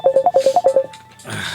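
Phone sounding for an incoming call: a quick run of about eight short electronic beeps, close and clear, followed by a soft hiss of room noise.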